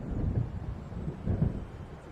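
Low, faint rumbles of thunder from an approaching storm roll in twice in the Alan Wake video game, distant and muffled over a soft background of wind.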